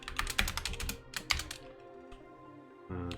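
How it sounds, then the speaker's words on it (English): Rapid clattering keystrokes on a computer keyboard come in bursts with brief pauses, close and crisp, with no speech. "Your typing is definitely not efficient, but you'll figure it out"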